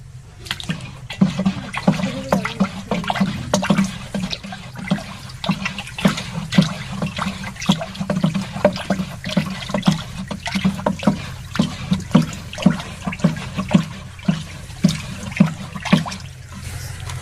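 A mixture of cow dung and cow urine being stirred in water for jeevamrit, with repeated sloshing and swishing strokes at a steady rhythm, close and continuous for the whole stretch.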